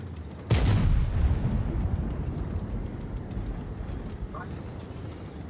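Tank gun fire in a tournament match of an online tank battle game: one loud, sudden boom opening with a long rumbling decay, then a steady low engine-like drone with a faint later pop.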